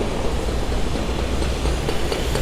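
Old electric commuter trains in Belgrade, Serbia, heard as a loud, steady rail rumble with dense rattling wheel noise close by and no talk.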